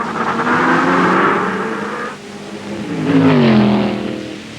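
A Lola sports racing car roars past during the BOAC 500 endurance race, its engine note swelling, fading, then rising again with a falling pitch as it passes close and loud.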